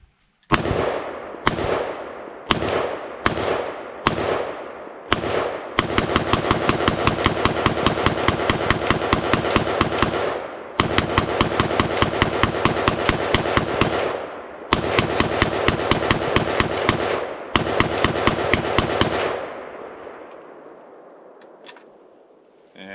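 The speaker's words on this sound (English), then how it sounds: "60 round test with the 6L31 Coffin mag loaded with Silver Bear" A rifle fires 60 rounds of Silver Bear ammunition from a 6L31 quad-stack Coffin magazine: six separate loud shots, then three long rapid-fire automatic bursts, each followed by a pause, and finally a fading echo once the magazine runs empty.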